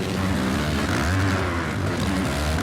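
Engines of 450 motocross bikes race downhill at Hangtown and rev up through the gears, a loud, close, raspy buzz whose pitch climbs and drops with each shift over a few seconds.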